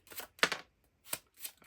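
Tarot cards are shuffled in short, quiet bursts of crisp riffling and flapping, four quick rustles close by with brief pauses between them and no voices.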